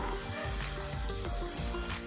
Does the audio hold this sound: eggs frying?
yes